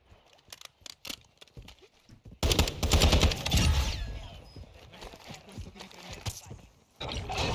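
Bombardment gunfire in a video game, a burst of dense rapid shots and blasts that starts suddenly after scattered clicks and crackles, then continues as ongoing firing, with voices talking over parts of it.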